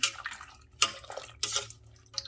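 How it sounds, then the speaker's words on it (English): Pectin is poured into a red roselle jam mixture, giving soft irregular splashes and drips in a few short bursts, faint and close. "Pour in a little bit of our pectin."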